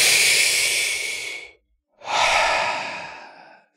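During a guided meditation, a person takes a deep breath, a loud close airy inhale followed after a short pause by a long exhale that fades out.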